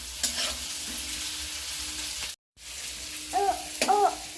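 Vegetables for chow mein sizzle and hiss as they stir-fry on a high flame, a loud continuous frying sound with a brief drop-out and clinks of a spatula on the pan.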